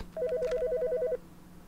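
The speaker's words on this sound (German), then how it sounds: "Soll ich ans Telefon gehen oder soll ich es ignorieren?" A telephone ringing in the video game Autopsy Simulator, one electronic warbling ring burst of rapidly alternating tones lasting about a second, clear and close over a low steady hum.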